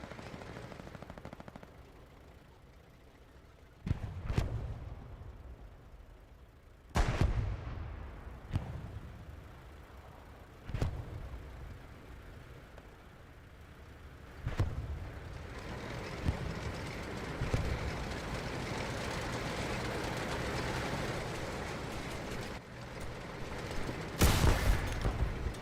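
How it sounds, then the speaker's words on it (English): Tank cannon and gunfire in Hell Let Loose: heavy booming shots with rumbling tails at irregular intervals, some near and loud, with a sustained rattling roar of distant battle and machinery building between them. "That's a tank."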